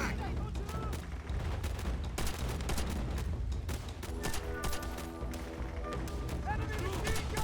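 A Japanese machine gun fires in Call of Duty: World at War during the US invasion of Peleliu Island: dense, continuous bursts of rapid gunfire fill a loud battle scene throughout.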